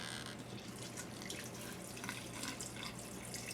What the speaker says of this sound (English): when I pour this in, because this is a larger container, I'm not gonna have as easy of a time mixing it, especially with that bag in the bottom. I'm going to let it splash a bit.